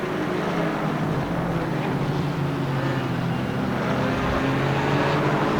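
GT4 race cars, Aston Martins and a Mercedes, battle at Spa with a loud, sustained engine roar that holds steady as the pack passes close by, with no voices heard.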